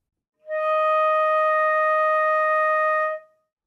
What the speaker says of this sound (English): To finger D sharp / E flat in the second octave,